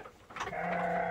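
A sheep in a farmer's pen lets out one clear, wavering bleat that swells and holds for under a second, close and moderately loud, preceded by faint rustling.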